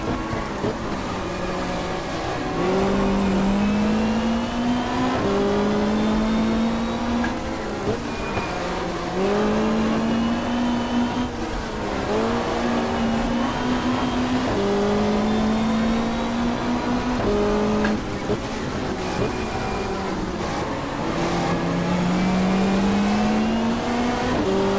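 Super Touring race cars at the 1995 Australian Super Touring Championship round on the Gold Coast Indy street circuit roar and rev continuously, engines rising and shifting through gears as they race past, loud and close throughout.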